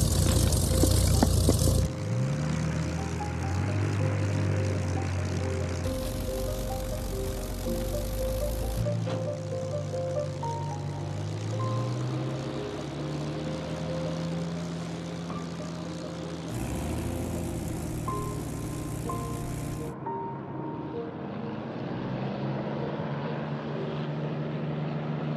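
A Spitfire single-seat monoplane fighter's engine roars steadily and loudly through its takeoff run, the propeller drone holding with shifting pitch and a sustained rumble that carries on without a break.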